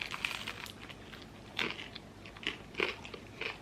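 Crisp bites into a thick, crusty slice of toasted homemade sourdough, burnt on the bottom: four or five close, sharp crunches spaced about a second apart, quiet overall with no talking.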